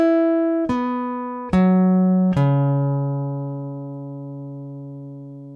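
Chapman Stick at fret 12, four notes tapped one after another and left to ring through the pickup with no compression, each sharp attack sustaining long and decaying slowly, close and clean.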